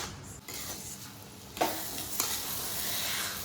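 A carrot rasgulla mixture simmers in milk and is stirred with a spoon in a pan, giving a soft continuous bubbling hiss broken by two sharper scrapes near the start and middle.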